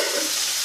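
Refried red kidney beans stirred and frying in a pan, a continuous close sizzle with soft scraping of the spoon through the mix, steady and alone for a brief moment.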